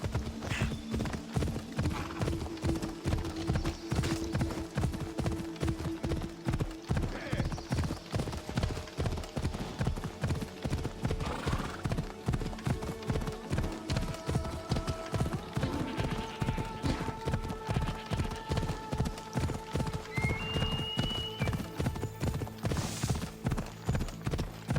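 Horse hooves pound in a fast, steady galloping clip-clop in Assassin's Creed Odyssey, loud and continuous throughout, with an occasional faint whinny and distant game ambience.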